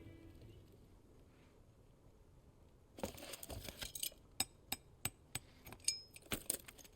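Metal hammering in the video game Final Fantasy XVI: a run of sharp, ringing strikes at a steady, slightly uneven rhythm, close and fairly loud after a quiet, low background ambience.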